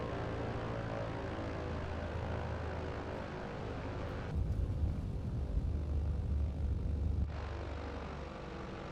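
A propeller airplane engine idles steadily on the runway before takeoff in Microsoft Flight Simulator, a continuous low drone that swells louder and rougher for a few seconds midway, then settles back.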